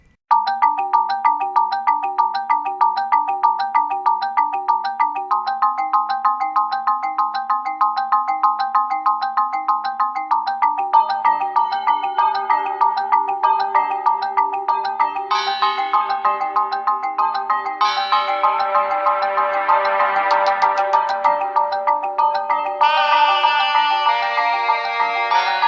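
Lanayru Mining Facility dungeon theme from a Zelda game: a bright, steady electronic melody of repeating plucked and chiming notes over a pulsing bass line, growing fuller with added layers and a rushing swell midway, loud and continuous.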